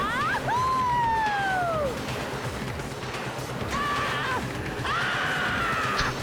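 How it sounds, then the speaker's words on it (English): Screams of riders on a roller coaster racing at top speed in the game Danganronpa 2, several long rising and falling wails heard amid a steady roaring background, loud and close, with a short burst of screaming later on. "I love those screams."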